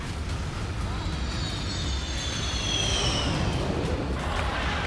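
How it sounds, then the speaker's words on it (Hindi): A fighter jet touching down on a highway runway, its engine roar steady and loud with a whining high-pitched tone sweeping across, over a constant low rumble. "थोड़ी देर बाद आसमान से कुछ यूं उतरा फाइटर जेट"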